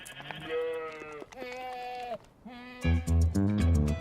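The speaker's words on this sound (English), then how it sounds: "Now, thanks to Randy, these goats have just a little bit of spider in them." Transgenic goats carrying a spider gene bleat in several clear, wavering calls close by, with a short pause and then overlapping louder bleats from more than one animal.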